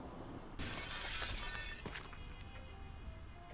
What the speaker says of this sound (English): And just like that, we've smashed the window